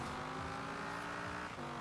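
A Dodge Viper ACR engine in Forza Horizon 4 accelerates hard with a steady, loud, continuous roar rising slightly in pitch, with no talking over it.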